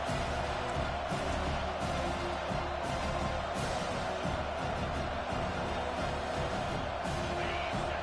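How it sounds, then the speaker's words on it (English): Dense, steady roar of a large football stadium crowd at an Ohio State versus Penn State game, a constant broadband wash with scattered shouts and thumps rising now and then, no clear speech on top. "This crowd going to try to make life miserable for these guys."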